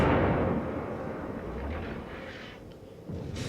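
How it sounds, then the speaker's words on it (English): A warship in World of Warships fires a full salvo from all its guns at once, a deep booming burst that rolls on as a low rumble, with a second thump near the end. "So now we can finally fire with all of the guns."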